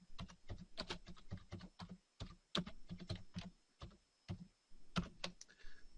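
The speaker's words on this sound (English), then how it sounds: "And now we're going to type in" A computer keyboard is typed on in quick bursts of crisp, close keystrokes separated by short pauses, with no voices.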